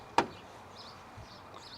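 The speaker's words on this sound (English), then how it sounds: "Can you open the door and just show us the inside there" A car door opens with a single sharp, close clunk, followed by near silence.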